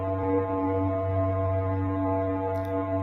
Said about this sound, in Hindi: चलिए अब नेपच्यून ग्रह की आवाज को सुनते हैं।